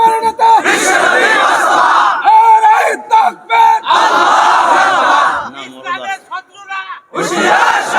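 A large crowd at an outdoor Bangla religious sermon shouts a slogan in unison, loud repeated chanted phrases separated by short pauses, with a single voice leading between the crowd's responses.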